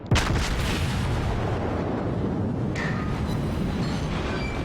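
Heavy battleship guns in a naval combat game fire a salvo with one loud, sharp boom at the start, followed by a long rolling roar and a faint whistling tail of shells in flight.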